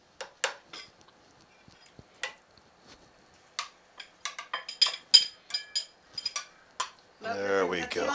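Dishes and cutlery clink in a series of sharp, scattered knocks while Italian stuffed shells are plated in a home kitchen, with a short stretch of talk at the end.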